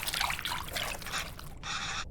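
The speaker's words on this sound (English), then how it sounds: "So which water, where do I pour it? I assume I pour it in here, and tamarind, and then I mix." Water poured onto tamarind in a bowl in the cooking game Venba, a steady trickling splash running for about a second and a half, followed by a brighter, even stream of pouring near the end, with no talking.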